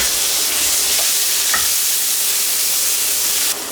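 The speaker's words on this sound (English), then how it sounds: "first I'm gonna add in a scoop of crushed garlic here" Crushed garlic sizzles hard in olive oil in a preheated pan, a loud, close, steady hiss with a faint stir, lasting a few seconds without talk.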